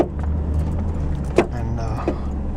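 A pickup truck drives slowly along a rough, bumpy back road, with a low steady engine rumble, rattling and jangling from the cab, and a couple of sharp knocks as it jolts over rough spots.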